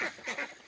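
Ducks, just let out through a gate, give a few quick nasal quacks at low volume, slightly distant, in a brief burst.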